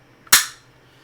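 A single sharp crack from a Makarov pistol, loud and close, with a quick decaying tail and no voices around it.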